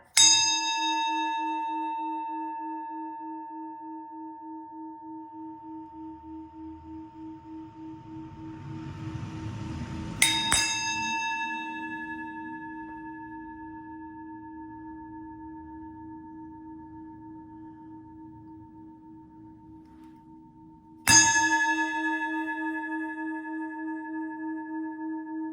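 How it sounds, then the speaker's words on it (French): A Tibetan singing bowl is struck three times roughly ten seconds apart, each strike a bright metallic ring whose steady hum sustains and slowly fades between strikes, close and alone. "je fais sonner le bol tibétain"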